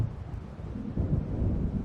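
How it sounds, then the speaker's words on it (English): Low rumbling thunder from an approaching storm rolls through a dark lakeside scene in the video game Alan Wake Remastered, a continuous deep growl that swells slightly midway, with no voices. "It seems there's a storm coming."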